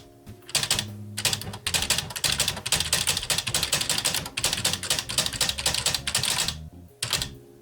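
A Smith Corona typewriter types a sentence in a steady, fast run of sharp, loud key strikes, broken by a couple of short pauses and ending with a final burst of clacks.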